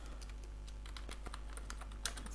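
Someone types a caption prompt on a computer keyboard, giving quick, light, irregular key clicks close by and fairly quiet over a steady low hum.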